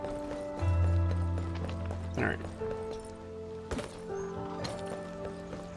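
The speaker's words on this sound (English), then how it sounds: "Do her footsteps sound different from everybody else's?" Footsteps of a character in the game Arknights Endfield tap in an irregular clip-clop pattern over steady game music with sustained tones, with a few sharper thuds mixed in.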